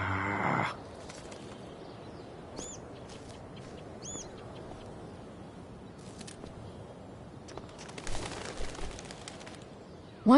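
A bird in the video game Life Is Strange: Before The Storm gives a few soft coos and faint wing flutters over quiet ambient noise, with a brief louder burst at the start and another near the end.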